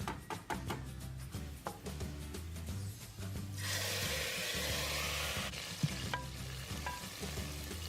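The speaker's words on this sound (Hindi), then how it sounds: "तो फ्रेंड्स क्या आवाज़ है तड़के की" A spoon scrapes and stirs in rhythmic strokes, then hot tadka tempering hits moong masoor dal with a sudden loud, sustained sizzle, while the stirring taps continue over the hiss.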